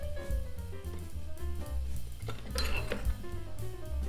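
Ice cubes clink against a glass or into a blender while a frozen strawberry daiquiri with lime and rum is being made, with a few sharp clinks standing out over steady background music.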